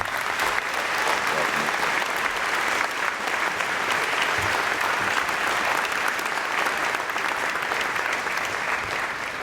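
A convocation audience claps loudly and steadily in a large hall to welcome the speaker, a dense, unbroken wash of applause.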